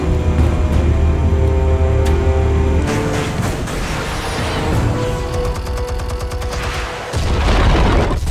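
A loud explosion in the Batman Telltale Series video game, with booming blasts, crackling debris and gunfire-like bursts layered through a dense, continuous game soundtrack with no talk.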